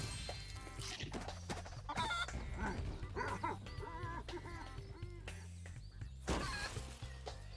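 A giant chicken in Spyro: Year of the Dragon clucks amid busy game music and effects, with sharp bursts and several short calls across the stretch.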